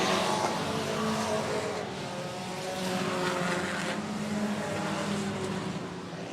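Race cars circle the track at 105 Speedway, including a number 1 Volkswagen, their engines a steady, loud, continuous roar with a slight swell and fade as cars pass, no voices over them.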